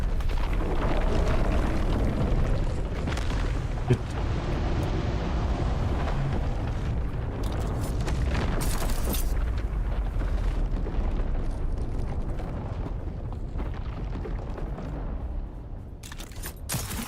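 In Dune Awakening, a sandworm drawn by a thumper surges through the sand as a sustained, heavy rumbling roar with bursts and crackles, loud and continuous before easing off near the end.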